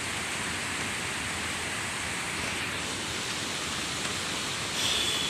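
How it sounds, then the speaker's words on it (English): Rain falls steadily in a dense, even hiss that stays constant throughout, with no voices over it. "Look at the rains here."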